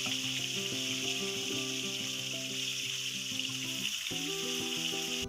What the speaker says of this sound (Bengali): মাছগুলো ভাজা হয়ে যাচ্ছে, হালকা এপিট ওপিট ভালো করে ভেজে নেব।